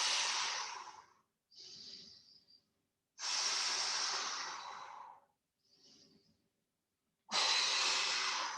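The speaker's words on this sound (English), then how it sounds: "Keep breathing, breathing into your back." Heavy, deliberate breaths during a bear isometric hold exercise: three long forceful exhales alternating with two shorter, softer inhales, close and breathy with pauses of silence between.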